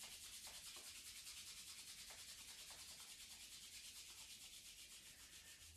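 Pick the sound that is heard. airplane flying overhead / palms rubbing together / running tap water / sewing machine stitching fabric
palms rubbing together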